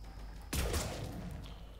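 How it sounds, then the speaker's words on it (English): Single sniper rifle shot in the video game Mass Effect 3, a sudden loud near crack with a booming low thump that decays over about a second. "I'm gonna grab the sniper rifle again"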